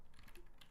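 Chinese text being typed on a computer keyboard, a handful of faint, quick key taps heard close up with nothing else over them.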